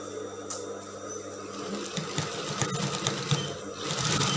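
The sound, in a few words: sewing machine stitching the side of a mermaid dress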